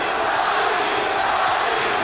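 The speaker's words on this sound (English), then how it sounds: "The crowd getting into it now, shouting, "Johnny, Johnny!"" Boxing arena crowd at the Johnny Tapia vs. Paulie Ayala rematch roaring and chanting, a steady dense wall of many voices that stays loud and fairly even for the full span.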